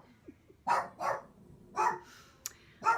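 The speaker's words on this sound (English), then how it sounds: "The dogs are barking, and I think I'm done." Dogs bark in short, sharp bursts, about five barks spread irregularly across a few seconds at moderate distance, with a faint higher yip among them and no talking over them.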